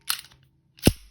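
Two sharp metallic clacks as a Glock 43 handgun is cleared, a crisp slide or action snap followed moments later by a heavier click, close and dry with nothing else around.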